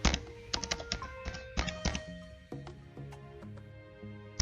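Command being typed on a computer keyboard while configuring DHCP snooping on a network switch: a quick run of crisp, close key taps in an irregular rhythm, with no talking.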